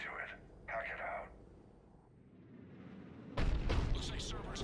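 A Cerberus cannon firing in the video game Mass Effect 3, with a heavy, booming blast that rumbles in near the end, preceded by game dialogue voices and low ambient hum.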